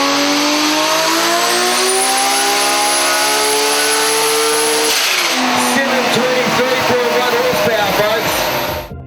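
A Japanese sports car making about 723 horsepower revs hard on a dyno, its loud engine note climbing steadily in pitch, then turning rougher and harsher before cutting off at the end, with talk over it.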